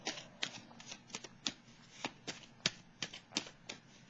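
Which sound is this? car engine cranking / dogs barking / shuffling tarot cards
shuffling tarot cards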